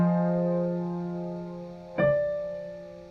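A sustained chord with an E flat suspension held in the top voice, ringing steadily and slowly decaying before a single new attack partway through, with no speech over it.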